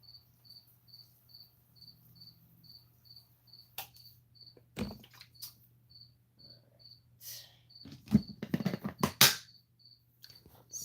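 Crickets chirp in short, evenly spaced pulses that repeat throughout, fairly quiet, with a low steady hum underneath and some louder rustling and clattering handling noises later on.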